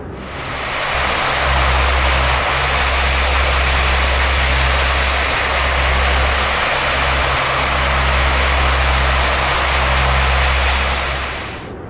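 Majestic Dash8 Q400 turboprop engines in the Prepar3D flight simulator idle while the plane taxis, a loud, steady propeller drone with a deep, pulsing low hum that holds throughout without speech.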